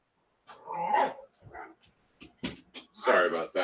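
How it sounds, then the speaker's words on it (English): A dog just let outside barks and whimpers in short, excited bursts, loud and close, with brief pauses between outbursts. "As soon as I let my dog out, he's going crazy."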